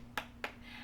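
Two sharp hand claps about a quarter second apart, done the wrong way with flat, thin-sounding palms for a cheer demonstration at wrestling cheer tryouts, heard alone without talk.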